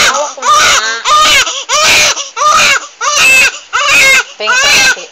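A newborn baby wails loudly and close during its first bath, crying in six or seven rhythmic bursts with short gasping breaks between them.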